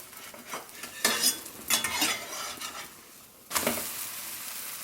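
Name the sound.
garbanzo bean paratha sizzling in pan, flipped with spatula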